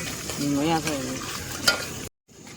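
Food frying in a pan on a gas stove at a campsite, with a steady hiss of sizzling and a brief voice over the top, the noise cutting off abruptly near the end.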